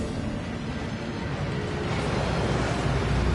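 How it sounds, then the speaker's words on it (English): A steady, dense rush of falling water in the Gringotts vaults of a Harry Potter video game, a constant broadband roar that holds level and swells slightly louder near the end, with no voices over it. "That waterfall washes away all enchantments."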